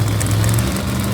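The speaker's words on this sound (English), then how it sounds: "See the engines? Just so you can hear it." A car engine runs with a loud, steady low rumble and a throaty idle hum, close by and constant with no voices over it.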